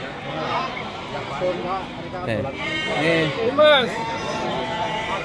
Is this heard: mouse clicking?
no